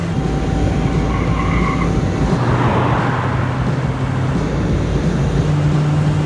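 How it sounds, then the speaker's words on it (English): Car in the Max Payne 3 video game driving hard, a loud continuous engine and road roar with a rushing, surf-like wash and a brief high tone early on, no talk. "just drive the fucking car!"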